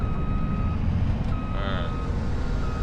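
Reversing beeps from a vehicle backing up a trailer in Farming Simulator 25, a steady run of tones over a constant engine drone, with no talking.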